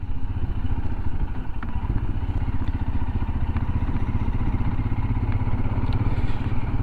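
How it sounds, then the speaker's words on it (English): A Royal Enfield Himalayan motorcycle rolls over old cobblestones in a French town, its steady engine thrum mixed with continuous rapid rattling and clatter from the rough stone surface, close and constant throughout. "Nothing like going over the old cobblestones to shake you up a bit, eh?"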